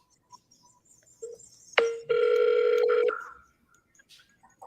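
A telephone placing a call back: a short tone, a sharp click, then a steady loud ringback or dial tone for about a second before it cuts off into quiet.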